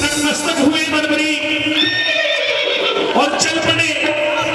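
A horse neighs loudly amid a dense, sustained musical backdrop, the whinny rising in bright pitched waves over steady accompaniment, tied to Barbarik's blue horse in the Khatu Shyam devotional tale.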